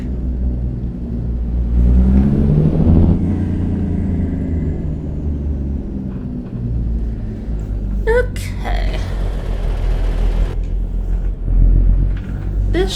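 A vehicle's engine rumbles and revs while a trailer is backed and jackknifed around walls, the drone rising and falling with a few sharp clanks near the end; someone talks over it.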